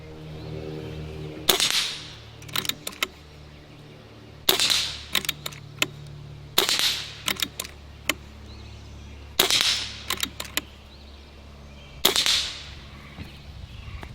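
A Barra 1100z Gen II airgun fires at steel targets, each sharp pop followed by a quick metallic ping, in five separate clusters of several shots with pauses between, over a steady low background hum.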